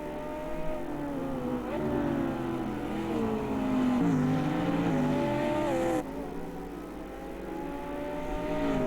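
GT4 race cars, including a McLaren, in Automobilista 2 during an Americana series round, with several engines droning and rising and falling through gear changes, steady and close, no talking.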